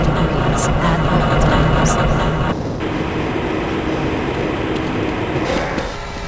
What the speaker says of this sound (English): This train is inbound from the Area 8 topside dormitories to the Central Transit Hub in Area 9